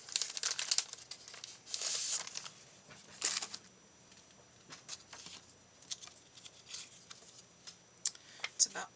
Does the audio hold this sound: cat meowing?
no